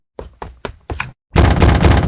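Four sharp, evenly spaced knocks on a door in a video game, loud and close, followed by a heavy sustained crash or bang as the door is struck hard, with no voices.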